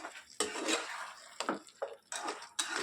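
Fried cabbage for gobi manchurian is stirred in a pan, a quiet close series of scraping and clinking knocks of a spoon against metal, about five irregular strokes with short pauses between them.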